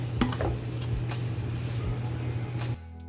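A semolina and milk mixture cooking in hot oil gives a steady soft sizzle with faint stirring scrapes throughout, close, then it cuts off abruptly near the end.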